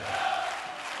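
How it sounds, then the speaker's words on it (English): A lively Austrian darts crowd in Vienna at the 2016 Austrian Darts Open chants 'stand up if you love the darts' in a loud, dense, echoing chorus of many voices. "We get a frenetic chorus of stand up if you love the darts from the Austrian crowd here in Vienna"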